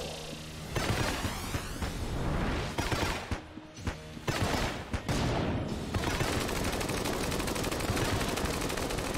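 Rapid bursts of gunfire and crackling bullet-destroying blasts from the D-pad weapon in Enter the Gungeon fill the scene, dense and continuous with sharp loud hits and brief gaps.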